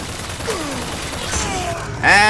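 Gunfire in BioShock Infinite: Burial at Sea, a few scattered shots under game ambience, ending in a loud close burst with a ringing tonal sweep.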